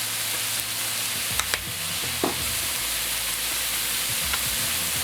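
Fried rice with soy sauce and teriyaki being stirred and folded in a hot pan, a steady close sizzle broken by a few scraping utensil clicks, with no talking.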